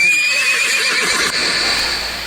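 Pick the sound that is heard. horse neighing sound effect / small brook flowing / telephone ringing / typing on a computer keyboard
horse neighing sound effect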